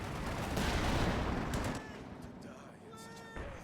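Anti-tank guns firing in the Company of Heroes 2 strategy game, a dense burst of battle shots and booms in the first half that fades toward quieter rumble, with a commentator talking over it.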